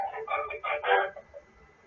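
A backyard chicken crows and clucks in a few short, bright bursts that trail off into quiet.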